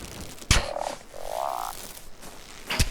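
A frog in the ARK survival video game gives two rising croaks between sharp thuds, close and fairly loud, with no voices.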